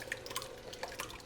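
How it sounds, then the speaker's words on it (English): Stewed tomatoes poured into a pot of cabbage soup give a short run of light wet drips and splats, close by and fairly quiet, lasting about a second. "splashing it on."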